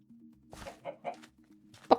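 A Minecraft chicken clucks several short, bouncy times in quick succession over a steady low game drone, finishing with a louder final cluck.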